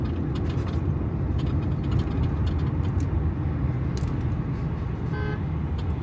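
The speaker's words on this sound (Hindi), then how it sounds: "हाँ बहुत ट्रैफिक का दबाव है।" Heavy road traffic rumbles steadily at Kashmir Chowk, a busy Islamabad intersection, with a dense continuous engine drone and a short car horn toot near the end; no voices.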